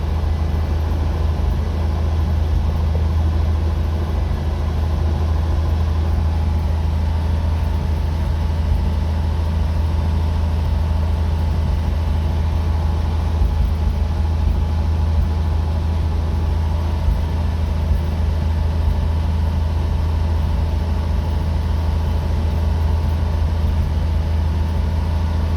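A Jeep CJ-7 engine idles steadily with a cold temperature gauge, dropping off high idle as the choke disengages onto the idle circuit; a loud continuous low rumble runs unbroken throughout with no voices.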